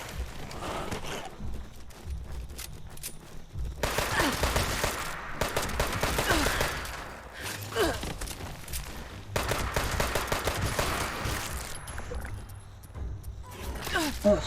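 Video game gunfire from the player's weapon comes in dense, noisy bursts separated by short gaps. A person talks over much of the shooting.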